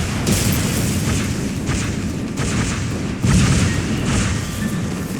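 Rumbling blasts and booming explosions from Hornet aircraft attacking in Halo Wars Definitive Edition, a dense, continuous barrage with repeated bursts that swell and fade over a steady low roar, with no talking.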